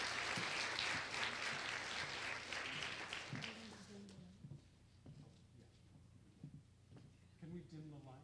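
An audience applauds a speaker at a public art talk at The New School. Loud clapping fades out after about four seconds, and a woman then begins to speak.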